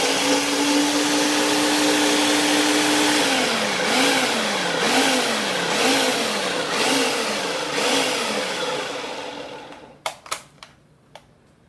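Food processor pulsing sofrito for Moros y Cristianos, a steady motor whine that cuts into a series of short rising and falling pulses, then stops, followed by a few sharp clicks and knocks.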